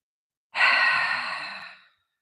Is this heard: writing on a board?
no